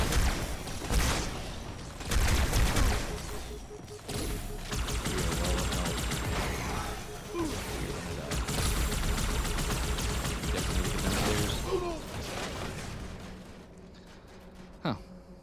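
Rapid bursts of gunfire in the shooter game Halo 2, loud and dense through most of the stretch with heavy blasts, fading toward the end where a single sharp shot stands out; a voice talks over parts of it.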